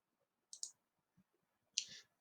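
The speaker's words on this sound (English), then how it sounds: "Now I'm going to click Insert, that main platform." Computer mouse clicks while working in Onshape CAD software: a quick double click, then a pause and another sharp click, faint and close in a quiet room.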